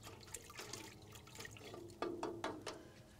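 A tablespoon of organic fertilizer is stirred into a gallon of water, giving soft, close liquid swishing and sloshing with a few sharper splashes, faint and steady throughout.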